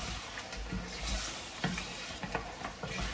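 Kadai gosht sizzles and fries in a pan while being stirred, a steady close sizzle punctuated by scraping stirs and small clanks, with no talk.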